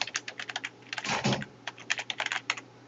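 Typing a project name on a computer keyboard, a quick run of close, crisp keystrokes in uneven bursts with a brief heavier clatter midway, no voices.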